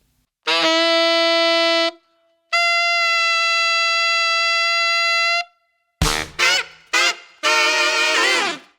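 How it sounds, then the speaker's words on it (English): Bright, reedy tenor saxophone tones approximating a high F sharp with octave key and B flat fingering, held high and steady, two long notes followed by a few short clipped ones and a final wavering held note. "you can kind of approximate a high F sharp just using your octave bass key B flat fingering"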